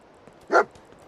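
Dogmeat, the dog companion in Fallout 4, gives a single short bark, close and clear over a quiet background.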